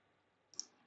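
A single crisp mouse click lands during vector drawing work in Adobe Illustrator, a short quiet tick standing alone against near silence.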